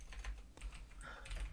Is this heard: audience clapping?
no